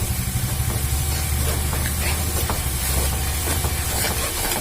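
Spice powders sizzle and crackle in very hot oil for a homemade mango pickle, a loud, dense frying hiss with scattered pops running continuously, no talking.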